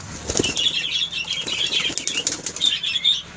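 A burst of pigeons being released from a home coop flaps wings loudly and close by, a rapid fluttering clatter that continues in waves for several seconds without speech.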